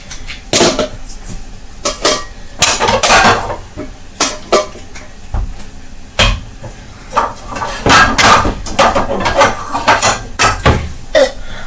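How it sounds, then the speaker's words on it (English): A non-stick pan and other cookware are handled in a home kitchen, with loud, sharp clanks and knocks of metal and utensils coming in irregular bursts, close up. "I'm gonna use this pan."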